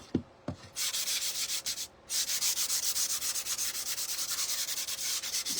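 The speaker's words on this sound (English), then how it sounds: "sand those little rough edges off" Sanding a painted wooden cutting board by hand, rapid rhythmic back-and-forth scratchy strokes close up, with a brief pause before the steady rubbing resumes.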